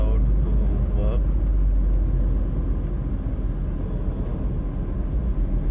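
City traffic with many vehicles during a lockdown, a steady low rumble of passing cars and engines close by, continuous and fairly loud, with someone talking over it.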